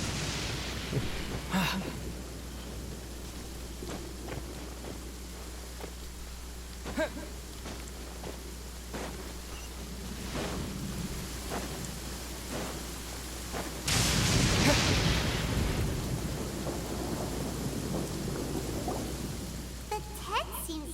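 Steady rainfall and distant thunder in the video game Genshin Impact, with scattered rain ticks and a louder rumbling swell of storm near the middle before the rain settles back to a constant hiss.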